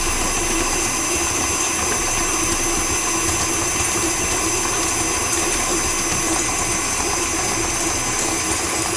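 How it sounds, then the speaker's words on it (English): An electric mixer whisks butter and desiccated coconut in a mixing bowl, giving a loud, steady motor whir that holds even and unbroken throughout, with no talking. "Into a mixing bowl, add the butter and whisk the butter about 1 to 2 minutes"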